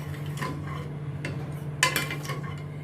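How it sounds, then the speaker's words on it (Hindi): A spoon stirs boiled eggs through egg curry in a pan, giving soft scrapes and a few light metallic clinks over a steady kitchen hum. "इसमें अभी मैं ये बॉइल्ड अंडे डालती हूँ। इनको अच्छी तरह से घुमा के मैं अभी थोड़ा इनको बॉइल करूँगी"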